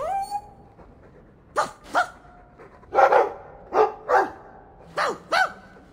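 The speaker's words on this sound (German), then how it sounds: "Hund? Ich mag das Hündchen." A mabari war dog in the fantasy game Dragon Age II barks and yips in a series of sharp, close bursts, roughly eight distinct barks spaced irregularly with a brief whine at the start.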